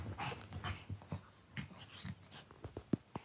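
A dog close by whimpers and breathes in short panting huffs, quiet and uneven, with small whines and snuffles.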